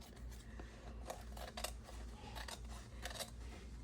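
Scissors snip through card while crafting a Winnie the Pooh journal page, a series of close, crisp cuts in an uneven rhythm over a low steady hum.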